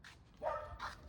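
A dog gives two or three short barks close by, quiet yips with a soft low background between them.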